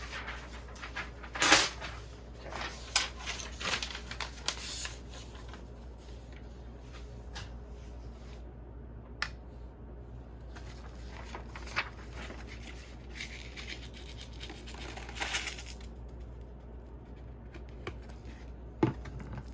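Sheets of paper handled and rustled at close range in a workshop for smelting gold, with scattered crisp crackles and soft shuffles over a steady low hum.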